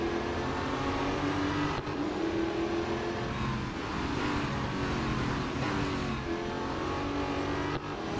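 Race car in the video game Real Racing 3 roars steadily at high revs, loud and continuous, with brief dips as it shifts gear.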